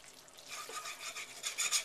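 Flour-and-fat roux cooking in a pan for gravy, stirred now and then, giving a soft, steady scraping and rasping sizzle that swells in gentle strokes, close by with no talking.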